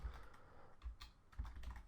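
Quiet keystrokes on a computer keyboard, a short run of soft clicks with a couple of louder taps, close by with no talking.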